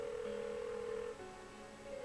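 A telephone rings on and on with no one picking up in the video game Persona 4, its steady electronic tone continuous and fairly close.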